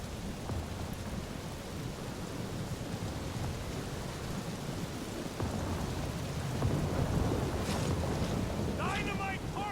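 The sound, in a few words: thunderstorm with lightning and rain, Guardians of the Galaxy video game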